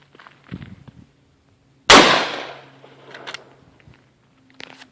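A single loud, sharp blast from a Winchester 12 gauge shotgun, close by, with a ringing decay. Faint clicks and handling noises come before and after it.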